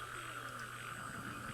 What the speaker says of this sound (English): That's frogs.